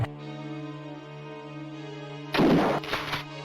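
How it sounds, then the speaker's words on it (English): Gunshots in the 1994 DOS game Alone in the Dark 3 crack out as two short bursts over a droning, tonal game soundtrack. "Is he shooting at me?"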